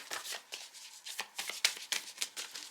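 Oracle cards riffle and flick in a quick, close shuffle, a run of crisp papery bursts and soft slaps at an irregular rhythm, with no voices over them.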